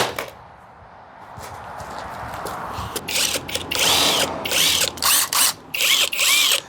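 A power drill runs in several close, loud bursts, revving hard in short pulses separated by brief pauses, with a whining mechanical edge; it is a budget drill compared against a Milwaukee during a fair-angle test.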